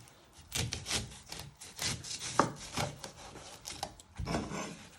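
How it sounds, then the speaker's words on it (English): A knife chops the end off an onion on a wooden board, making a series of rough, scraping cutting strokes that come in uneven bursts, quiet and close. "You first want to chop your end off."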